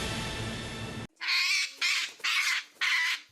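A talkative parrot lets out four loud, harsh squawks in quick succession, close and clear, each separated by a short pause, right after a burst of other sound cuts off.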